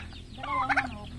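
A turkey gobbles once in a loud, rapid rattling burst, close by, over steady low background hum.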